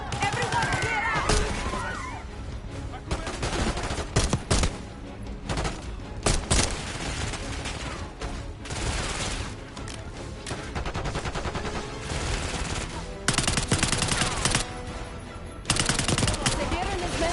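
Dense bursts of automatic gunfire and single shots ring out in a Call of Duty: Black Ops 6 fight, loud and nearly continuous, with voices shouting in between.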